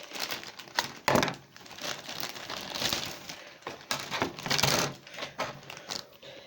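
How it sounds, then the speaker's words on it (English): Hands opening the plastic bag around the sprues of an Airfix Royal Aircraft Factory BE2c model kit, a close, busy run of crinkling and rustling with sharper snaps and crackles in between. "I'm just opening up the bag so I can show you all the sprues for this kit."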